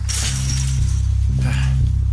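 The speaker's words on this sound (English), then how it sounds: "Smashed open the gate." A wooden gate smashed open in the Firewatch video game: a loud splintering crash with a shatter at the start, then a second crashing impact about a second later, close and alone.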